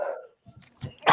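A dog barks from elsewhere in a house, a few short sharp barks at moderate distance with a loud burst at the end, in an otherwise quiet room.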